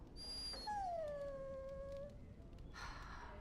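A dog in Dragon Age: Origins lets out a drawn-out, high whimpering whine that slides downward and fades, fairly close, followed by a brief soft rustle.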